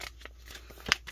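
Pearl vinyl from TeckWrap being creased into a small fold to mark a center line, a soft crinkly rustle with one sharper snap near the end.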